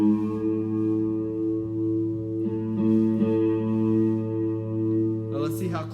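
A guitar's open A string rings out as a sustained, steady note during tuning, with a second string sounding near the end.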